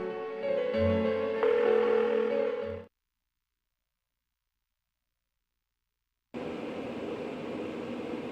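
A phone rings unanswered in the video game Persona 4, one burst of tonal ringing. Several seconds of total silence follow, then a flat background hum.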